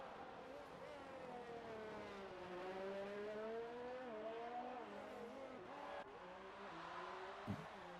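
Race cars in a racing video game at Baku idle and rev in the pit lane, a steady layered engine drone with shifting pitch running throughout, faint tire chirps near the end, no one speaking.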